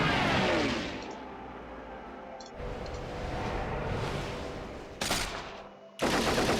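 Fighter planes strafe with machine guns in Axis & Allies, producing sustained rattling gunfire mixed with engine roar, fairly loud and continuous, with a couple of sudden sharp bursts near the end.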